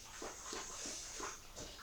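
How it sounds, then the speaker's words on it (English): Dogs whimper and yip indoors in several soft, evenly spaced whines, faint against low room noise. "the dogs they love to make a bunch of noise when I make my videos"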